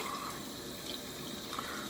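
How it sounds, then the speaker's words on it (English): A tap runs steadily into a sink, close and continuous, as a shaving brush is rinsed out under the stream. "And I'm just washing out that brush."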